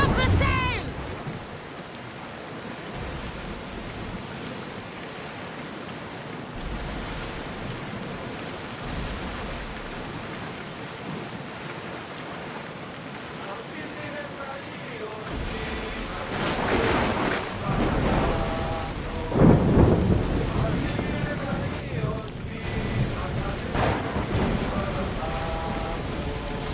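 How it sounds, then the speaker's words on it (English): Steady rain and surging sea wind fill a stormy ocean scene in Assassin's Creed Odyssey, building to louder rumbling bursts and crashing surges about two-thirds of the way through. "Would you look at that storm?"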